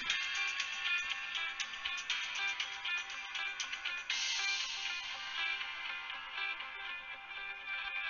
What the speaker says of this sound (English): I did not realize my phone was not turned off.